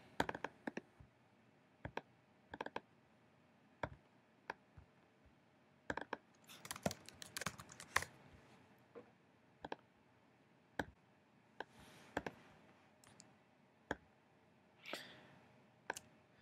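Sparse computer key presses and mouse clicks while building an iOS app storyboard, sharp isolated ticks spaced a second or two apart with a denser cluster of rapid clicks in the middle, close and fairly quiet.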